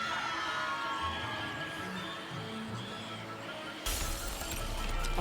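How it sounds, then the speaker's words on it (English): Glass suddenly shatters in a crisp, bright crash in a wizarding video game, broken by a mandrake, cutting through a steady bed of game ambience after several seconds. "Oh, it broke the glass."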